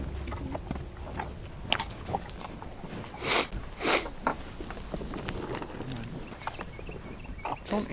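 A bison chews and bites its food up close, with a soft, steady run of wet crunching and a couple of louder snorts or sniffs partway through, no talk over it.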